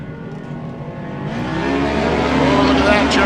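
Race cars accelerate back to green-flag racing on a short-course off-road track, engines droning and climbing steadily in pitch, loud and close, with a voice talking underneath.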